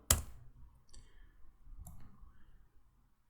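One sharp click of the Enter key on a keyboard, close and crisp at the start, followed by a couple of fainter clicks in near silence.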